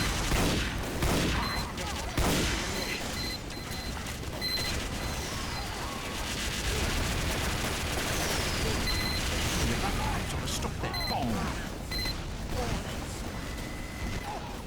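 Rifle gunfire in Team Fortress 2 Classic fills a busy match, repeated sharp shots and booms over a dense bed of game noise, with a voice talking intermittently.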